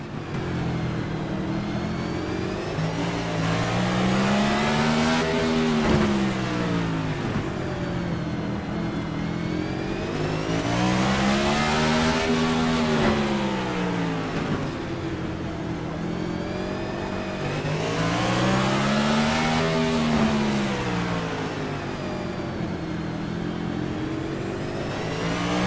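Race car engines roar continuously from an onboard view in an eNASCAR iRacing exhibition race at the LA Coliseum, rising and falling in pitch through repeated revving cycles, loud and close throughout.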